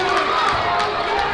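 Crowd of high school basketball fans standing and cheering in a gym, a steady roar of voices and shouts filling the arena with no breaks.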